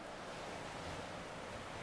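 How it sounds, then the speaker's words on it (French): Ocean surf washing back and forth on a beach, a steady, soft, broadband rush with no distinct breaks, fairly faint and distant with a little wind. "tout ce que peut nous apporter cet océan avec le ressac des vagues qui vont et qui viennent sur la plage"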